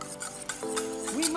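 Sugar and fifteen grams of butter stirred in a pan for a lemon meringue tart, a soft continuous scraping and swishing close by, quiet and steady with no talk.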